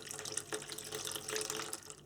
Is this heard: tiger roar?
no